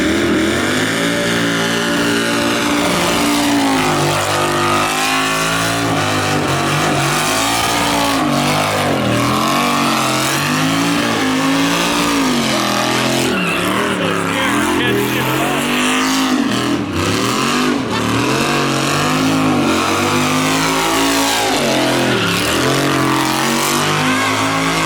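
A race motor swapped into the El Chromino car revs hard and drives around a parking lot, loud and sustained with rising and falling engine pitch, aggressive bursts of throttle and a rough, throaty tone throughout.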